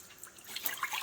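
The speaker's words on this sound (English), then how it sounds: "So I am putting 2 cups of water" Two cups of water go into a pan for sugar-free cranberry sauce, a short, faint splashing trickle with a few brighter drips toward the end.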